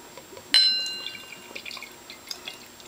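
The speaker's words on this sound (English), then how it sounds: "why don't we get it poured into this glass here" Bell's Expedition Stout, a dark Russian imperial stout, is poured into a glass, starting with a bright glassy clink followed by soft, close gurgling and dripping liquid, quiet and without speech.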